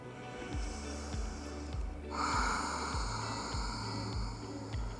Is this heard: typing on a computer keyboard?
no